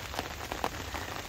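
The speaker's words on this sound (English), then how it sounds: "Rainy days, eh?" Steady rain patters at a fishing spot on an early rainy morning, a dense close hiss with scattered sharper drops striking a surface, continuous throughout.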